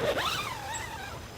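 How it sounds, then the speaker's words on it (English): The two-way zipper on a Snow Peak Vault tunnel tent door is pulled in one smooth, continuous close-up zip lasting just over a second, its pitch rising and then falling as it runs, with no talk. "With these doors, we have two-way zippers"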